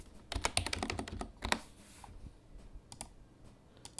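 Rapid typing on a computer keyboard, a quick run of crisp clicks followed by a pause and then a few scattered keystrokes, close and fairly quiet.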